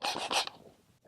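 Dust being scrubbed out of a drilled bolt hole, heard as two quick, close rasping strokes followed by a brief fading scrape and near silence.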